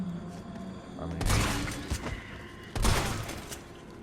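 Shotgun blasts in Resident Evil 3, two heavy booming shots about a second and a half apart, each with a burst of noise and a fading tail over a low ambient game background.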